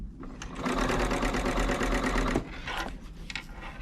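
An overlock sewing machine with a piping foot stitches a chain over a zipper, a rapid, steady mechanical whirring for a couple of seconds, then stopping, followed by a few fainter clicks and handling sounds.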